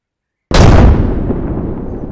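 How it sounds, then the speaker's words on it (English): A single loud controlled explosion during SAS special forces training, a sudden, close, heavy blast after brief silence that leaves a long rumbling roar slowly fading. "controlled explosion in 5, 4, 3,"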